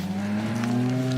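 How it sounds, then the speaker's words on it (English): A Shorthorn bull named Blizzard gives a steady, sustained low moo on a farm, close and fairly loud, with no talk over it. "It's a short horn bull called Blizzard."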